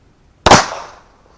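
A single sharp, loud shot from a Smith & Wesson 30 Super Carry pistol fired at a target, with a short decaying tail and nothing else around it.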